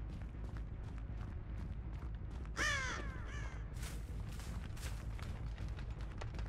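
Disturbed crows caw loudly in a harsh burst in the Dead by Daylight video game, followed by fainter flapping and calls over a steady low ambient rumble.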